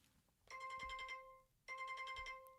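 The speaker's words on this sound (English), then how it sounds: "Oh my God, severe weather alert again." A phone's severe weather alert for a flash flood warning sounds twice: two loud, harsh, buzzing multi-tone bursts of about a second each, separated by a short gap, heard close with no talking.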